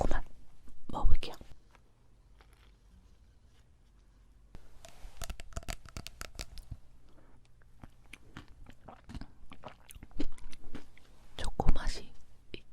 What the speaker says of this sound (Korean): 씹히는 게 너무 맛있어요.